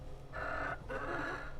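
Egg-laying hens on an urban farm in Sebastopol give two drawn-out clucking calls, close and clear over a low rumbling background.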